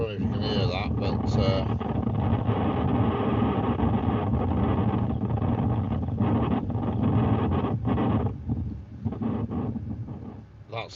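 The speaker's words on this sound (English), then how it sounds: "that sound then was the wind on my CCTV camera at home" Wind buffets a home CCTV camera microphone, giving loud steady roaring gusts that fade toward the end, with a voice talking over it.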